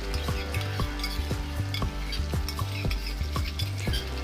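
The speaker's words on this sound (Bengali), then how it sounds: "এবার আমি কাজু আর পোস্ত যেটা আগে থেকে বেটে রেখেছিলাম সেটা কড়ার মধ্যে দিয়ে দেব" Cashew and poppy seed paste sizzling in a kadai for a Bengali doi potol dish, with a continuous frying hiss broken by regular metallic scrapes and clinks of a spatula stirring against the pan, about two per second.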